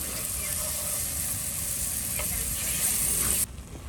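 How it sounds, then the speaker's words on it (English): Mushrooms frying in a little Flora margarine at an outdoor wild camp, giving a steady, faint sizzle that runs without a break and drops away near the end. "I'll begin by frying off the mushrooms in a little bit of flora"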